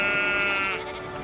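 A sheep bleats once, a long wavering cry close by, on a tiny steamer carrying scientists and sheep from the Falkland Islands.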